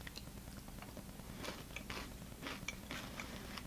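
Crunchy bites and chewing of a Go Max Go vegan crunch candy bar, close to the mic, with irregular crisp crackles over a quiet room.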